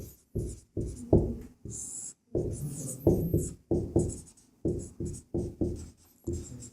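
A pen or marker writes by hand on a board during a class 10 maths lesson on the area of a circle sector, with short scratchy strokes in an irregular rhythm, close and distinct, with no talk.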